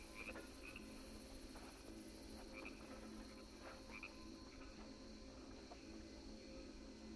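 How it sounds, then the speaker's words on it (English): Frog croaking ambience from the video game Baldur's Gate 2, a steady chorus of repeated croaks over a constant insect-like drone, continuous and moderately distant with no talking. "We sit and wait and listen to the frog ambience in the background."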